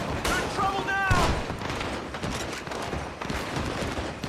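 Bursts of gunfire in the Western video game Red Dead Redemption 2, a quick volley of shots over whistling game sounds and someone talking throughout.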